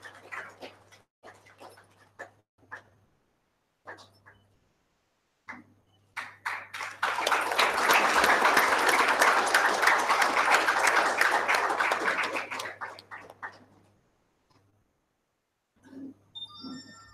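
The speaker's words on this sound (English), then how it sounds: "give him a round of applause" An audience in a hall at a conference inauguration gives a loud sustained round of applause lasting about six seconds, rising and fading, with scattered quieter sounds before and after.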